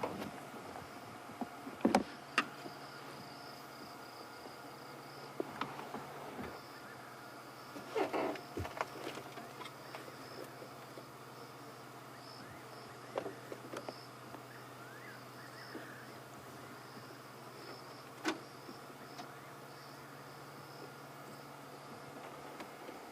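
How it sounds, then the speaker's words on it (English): Night insects on a South African safari drive, a steady layered chirring and buzzing chorus holding throughout, with occasional soft knocks and movement nearby and no talking. "all we can hear is some insects around us"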